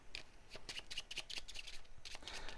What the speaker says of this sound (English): Those are going to get shuffled.